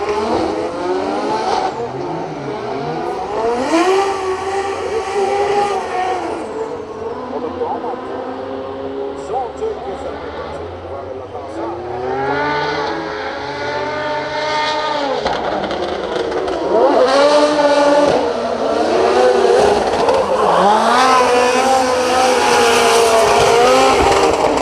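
Drift cars at a Drift Masters practice session in Finland, engines revving and wailing in long rising and falling sweeps with tire noise, loud and continuous, under a commentator talking throughout.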